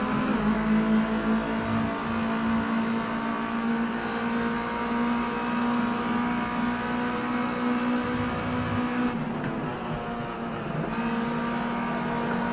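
Race car engine in the video game Project CARS 2 at Donington, a loud, sustained high whine holding steady revs with slight pitch shifts throughout.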